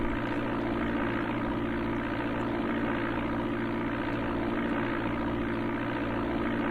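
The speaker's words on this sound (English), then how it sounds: "The Piper Archer was the plane that was on the Commodore 64." A Piper Archer propeller plane's engine drones in Flight Simulator II on the Amiga, a constant, even, loud buzzing hum with no change in pitch throughout.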